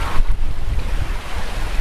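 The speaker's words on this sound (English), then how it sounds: "And we are just surfing down some waves" A sailboat surfs down ocean waves in strong wind, with a loud, continuous rush of water and heavy wind buffeting the microphone throughout.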